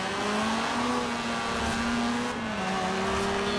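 Mazda RX3 engine in Forza Horizon 4 holding a steady, droning rotary note that climbs gradually as it accelerates, continuous and close with no talk.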